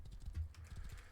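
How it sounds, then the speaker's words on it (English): A horse's hooves clip-clop in the survival game Rust, a steady run of soft, muffled thuds at close range with no other sound over them. "And it's nice that I found a horse."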